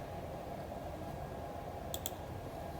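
Two quick computer mouse clicks close together near the end, a right-button press, crisp and faint over a low steady background hum.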